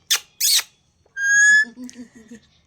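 A pet parrot named Mitthu gives a clear, sustained whistle with a rising tone, followed by a few softer chirpy trills, close by and quiet otherwise, after two short breathy bursts at the start.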